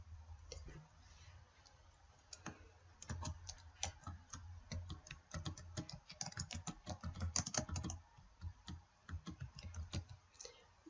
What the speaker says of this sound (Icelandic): Hér skrifa ég nafnið á höfundunum